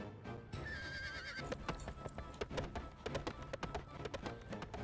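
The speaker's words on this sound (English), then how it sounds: "She got back on her horse and rode lightly down the main road." A horse in a video game whinnies loudly and long, then its hooves clop in a quick, uneven rhythm over background music.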